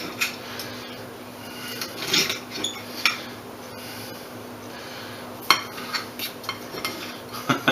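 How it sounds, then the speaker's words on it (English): A serrated knife sawing through grilled meat on a plate, close scraping strokes with sharp clinks of metal against the dish, uneven and intermittent, with no talking. "I'm using a serrated knife because, well, it was handy."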